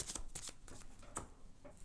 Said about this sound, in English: we're going to go ahead and shuffle our cards again for our next set of cards